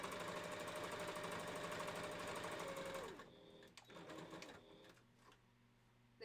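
A sewing machine stitching along a fabric edge hums at a steady, loud rate for about three seconds, then stops, leaving faint handling clicks and rustles.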